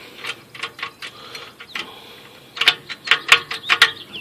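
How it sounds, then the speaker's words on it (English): A wrench ratchets as it snugs a nut while a Hobart unit is being installed. A few scattered clicks come first, then a quicker burst of sharp, close metallic ratcheting. Nobody speaks. "then you snug it with a wrench"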